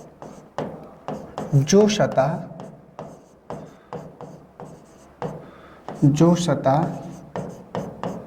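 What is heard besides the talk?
writing a note by hand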